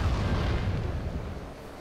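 Missile blasts in the Sly 3 video game during the flying stage, a dense, continuous rumbling roar of booms with heavy low end, loud and sustained, gradually easing off, with no voices.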